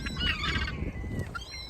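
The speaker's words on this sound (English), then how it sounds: "Lots of the gulls, and I've got some pigeons here, and there's a few little crows, little jackdaws as well" Gulls, pigeons and jackdaws squawk and call in a churchyard as they gather for food, a busy overlapping chorus of close, loud cries with no talking.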